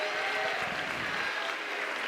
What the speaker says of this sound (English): Getting great support from the crowd